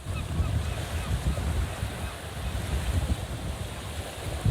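Wind buffeting a microphone on a beach, a continuous rough low rumble with gusty swells and surf hiss behind it; no talking.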